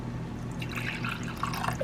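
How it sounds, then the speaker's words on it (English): Refrigerated iced coffee from a Keurig poured from one cup into another, a close trickling, splashing stream rising in pitch as the cup fills, heard alone. "I'm going to pour about half of it into another cup for tomorrow"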